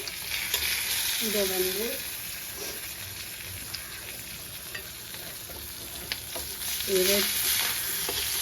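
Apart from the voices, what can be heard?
fish frying in oil on the stove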